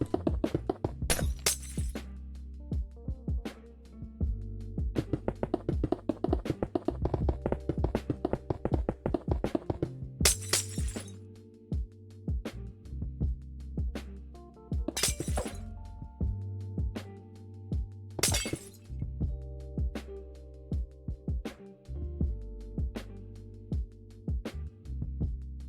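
Repeated glassy shattering and tapping clicks of glass blocks being placed while building a city tower in a building video game, a rapid run of clicks early on, then spaced crisp breaks over steady low game music.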